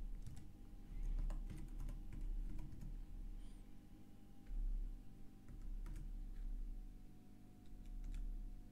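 Someone types on a computer keyboard, a steady stream of quick plastic key clicks with irregular rhythm and occasional louder taps, close and continuous over a low background hum.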